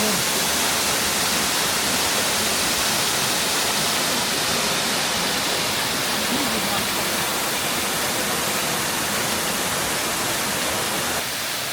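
Waterfall roaring through a Slovenian gorge in the Bohinj mountains, a dense steady rush of falling water close by, unbroken and loud throughout with no voices.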